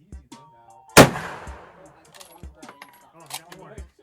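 A rifle at a shooting range fires one sharp, loud, close report, followed by fainter distant shots and metallic clinks, with people talking nearby.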